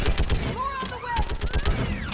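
Gunfire breaks out in Mass Effect Legendary Edition, with rapid bursts of shots and whirring weapon tones during a battle, while voices shout over the shooting.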